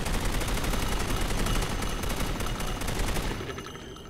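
A modded gun in an Unreal game fires as a loud, rapid automatic burst that continues for about three seconds and then cuts out, close up with no talk over it.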